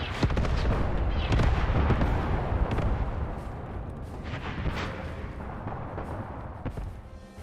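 Heavy artillery and tank gunfire in the war video game Graviteam Tactics Mius-Front, with repeated booming blasts and rumbling, dense and loud throughout with no voices.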